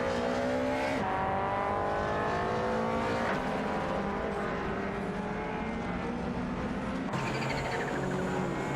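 Race cars roar around a track in an AI racing video game, engines droning continuously with shifting pitch as several cars pass, loud and steady throughout without any talk.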